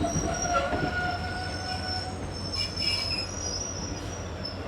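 Train between Jodhpur and Jaisalmer running on the rails, a steady loud rumble of wheels and carriages with high metallic wheel squeal rising throughout, with no voices.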